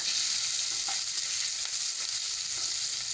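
Chopped onions fry in hot oil with browned cumin and a pinch of asafoetida, giving a steady, loud, hissing sizzle that runs unbroken throughout, with no voices.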